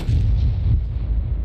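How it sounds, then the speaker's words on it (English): An artillery shell striking a tank in World of Tanks, a single heavy, booming impact that rumbles and fades over a second and a half, loud and close with no talking. "Ready for artillery to hit us again?"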